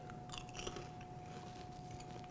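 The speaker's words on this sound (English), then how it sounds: "Can you hear the crunching?" Crunching and chewing on homemade chocolate popcorn made with Hershey's cocoa powder, steady close-up bites and mastication running through the whole stretch with no talk.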